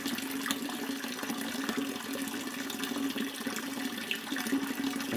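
Clean water drawn from a well pours or runs continuously at close range, a steady rushing splash for the whole stretch with no pauses and no talking.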